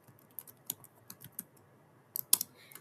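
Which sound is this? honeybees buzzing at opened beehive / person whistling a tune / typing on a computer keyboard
typing on a computer keyboard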